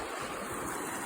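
Water rushing down a lake spillway dammed up by beavers, a continuous broadband roar of fast-flowing water heard close and steady, with some wind across the microphone.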